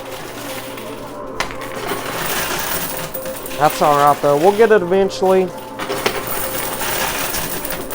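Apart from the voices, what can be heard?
coin pusher machine pushing and dropping coins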